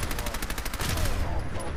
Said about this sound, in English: I'll try the submachine gun.